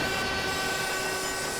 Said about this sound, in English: I was supposed to get on that train